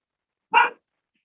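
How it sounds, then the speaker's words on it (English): A single short dog bark sounds once from a short distance, set against an otherwise silent room. "my dog's barking in the background"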